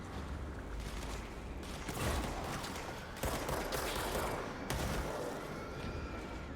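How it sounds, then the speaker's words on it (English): Sustained gunfire in the video game Control, dense rattling volleys with sharp surges near two, three and a quarter, and four and a half seconds, loud and continuous with no speech. "Who's shooting me?"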